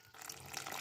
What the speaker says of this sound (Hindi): पानी डालते जाएंगे और इसकी हमने अच्छे तरीके से इसका बैटर बना लेना है